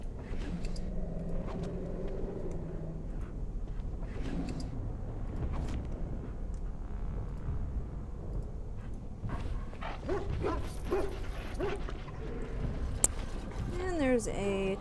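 Dogs barking and whimpering in Dragon Age: Origins, a mabari wolfhound's yips and barks mixed with game ambience, while a voice talks over them.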